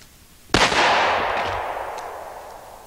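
A single .460 round, a full-powered 185-grain jacketed hollow point, fired at a concrete block: one sharp, loud report with an impact crack, followed by a long decaying outdoor echo.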